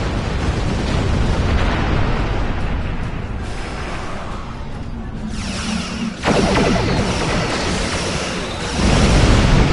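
An explosion destroying the uptake room in the video game Star Trek Online, a sustained roaring blast with crashing bursts and rumbling debris, loud throughout and swelling again near the end.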